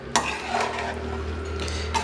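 Vegetable curry being stirred in a pot in an ashram kitchen, with a few scraping clinks of a utensil against the pot over a steady low hum; no talking.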